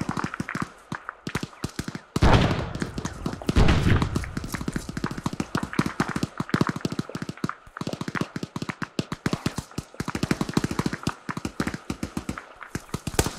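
Rapid gunfire in ArmA 3, a dense stream of sharp shots and bursts with a few heavier thumps, steady and close throughout.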